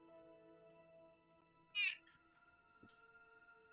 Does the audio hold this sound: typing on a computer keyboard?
no